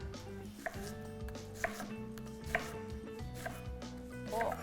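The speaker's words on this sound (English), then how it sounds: "So I'm going to do a small dice on this, so we're going to do a lot of linear chops all the way down" A sharp knife dices an onion on a cutting board in a run of quick, evenly spaced chops, close and fairly quiet with a low background hum.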